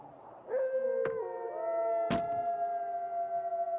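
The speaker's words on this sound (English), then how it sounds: "I like the dog." An animated dog howls in long, wavering tones that rise and hold, broken by two sharp thumps, fairly close and clear with no speech over it.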